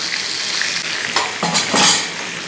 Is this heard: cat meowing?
no